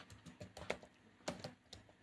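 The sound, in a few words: typing C code on a computer keyboard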